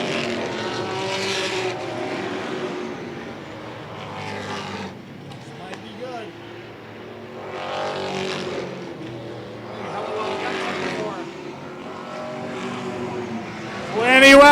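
Race cars roar around a track mid-race, engines rising and fading in repeated passes, loud and sustained beneath a commentator's running talk, with a sharp surge at the end.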